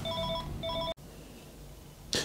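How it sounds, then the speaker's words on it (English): Telephone ringing indoors, two short electronic trill bursts close by, then a clunk and quiet room noise with a brief rustle. "Phone's ringing"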